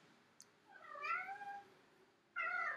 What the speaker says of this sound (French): Désolée, j'ai mon chat qui miaule.